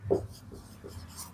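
A pen scratches briefly on paper during a biology lesson: a few short, close strokes at a low level, with no talking.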